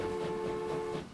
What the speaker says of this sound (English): Such a beautiful train.